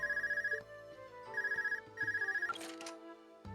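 A portable orbment phone rings in Trails of Cold Steel, a bright electronic ringtone in three repeated bursts with short gaps, followed by a brief noisy rustle, with no talking.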